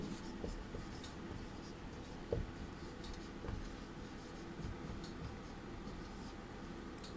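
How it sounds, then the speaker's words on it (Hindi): Pen writing a heading on paper, a continuous scratchy rubbing with small stroke accents over a steady low hum, close and quiet, without speech. "तो यहाँ पर हम लोग प्रश्न का उत्तर लिखेंगे, प्रश्न अभ्यास हेडिंग डालकर"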